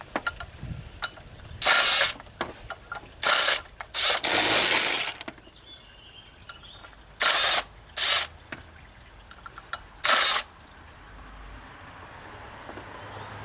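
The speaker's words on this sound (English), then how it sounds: "I'm going to try to impact and get them loose" Impact wrench loosening the water pump bolts on a 2011 Cadillac CTS4 3.6, with about six short, loud bursts of hammering rattle separated by quieter gaps, close up in a garage setting.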